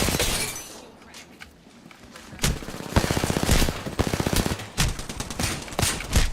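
Rapid bursts of automatic gunfire crackle in an Apex Legends match, close and loud, broken into several strings of fast shots with sharp single cracks between them.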